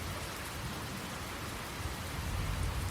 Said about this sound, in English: the patter of rain